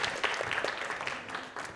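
A studio audience claps to welcome a guest onto a Spanish-language science talk show, giving brief, dense, steady applause at moderate volume.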